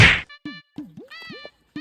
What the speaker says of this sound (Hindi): इसने मुझे थप्पड़ क्यों मारा?